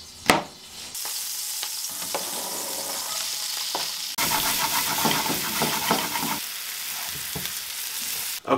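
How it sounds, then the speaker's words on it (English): Mushrooms fry in a little olive oil and butter or margarine in a home kitchen. A steady, close sizzle grows noticeably louder halfway through, with occasional utensil knocks and a sharp clatter at each end. "we cooked them up in a little bit of olive oil and a little bit of butter"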